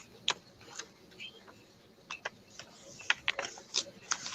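Paper being folded by hand for book folding, giving a scattering of faint, brief crisp creases and taps at irregular intervals, close up and quiet.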